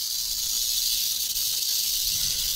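Big Bob the rattlesnake rattles in a loud, continuous buzzing hiss, close up and unbroken, with no voices over it.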